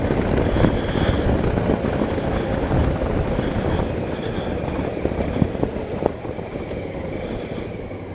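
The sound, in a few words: 2016 Honda Africa Twin motorcycle riding, automatic gear shifting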